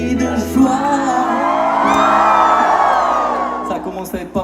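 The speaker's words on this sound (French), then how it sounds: "Ça commence à être pas mal le cri de joie" Crowd at a live outdoor worship concert in Saint-Leu letting out loud cries of joy, a swelling mass of whoops and shouts that peaks and fades over a few seconds.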